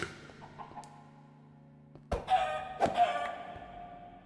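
A chicken in Minecraft clucks in short, sharp bursts after a quiet stretch of low background game tones, fairly close and clear with no voices over it.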